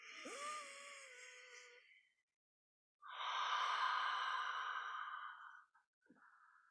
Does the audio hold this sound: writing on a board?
no